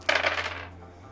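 Dice tumble onto a tabletop during a tabletop role-playing session, a quick burst of bright clattering rattles that bounce and settle within about half a second, close and clear in a quiet room with a low hum underneath.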